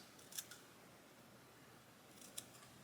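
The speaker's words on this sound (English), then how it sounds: "So I'm going to trim this piece." Tamiya hobby scissors snip a plastic model part at close range, two quiet cuts about two seconds apart in an otherwise hushed room.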